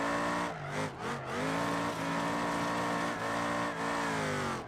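A car drifts in the video game BeamNG.drive, its engine revving hard and steady with quick pitch dips as the throttle lifts, while tire squeal blends in under the loud, continuous engine note.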